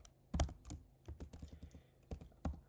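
Irregular keystrokes on a computer keyboard while editing Lua snippet configuration in Neovim, close and quiet, a few clustered taps with short pauses between them, no talking.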